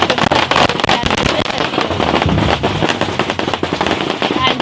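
Dense strings of firecrackers explode at a Spring Festival parade of the gods, with loud, continuous crackling bursts overlapping without pause.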